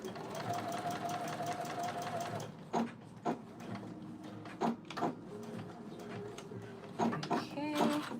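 A sewing machine runs stitching fabric, a steady mechanical hum broken by clicks and knocks, while a person speaks over it.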